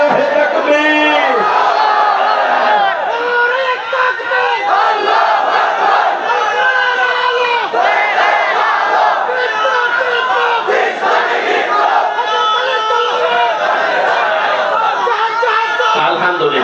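A large crowd at an outdoor religious gathering roars a takbir chant back in unison, loud and sustained, with voices layered over one another throughout.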